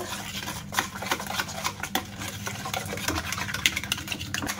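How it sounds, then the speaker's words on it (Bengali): Eggs and sugar are whisked by hand in a bowl for homemade biscuits, making a fast, steady run of light clicking and scraping strokes close by. "ভালো করে ডিমের সঙ্গে ফেটিয়ে নেব"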